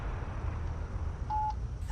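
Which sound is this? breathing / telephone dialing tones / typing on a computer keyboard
telephone dialing tones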